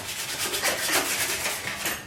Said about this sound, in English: Giving it a rub down.